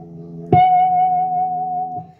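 Chime-like guitar natural harmonic at the seventh fret of the B string, a single struck bell tone with a soft pluck attack that rings clear and steady for over a second through an effects unit, then fades.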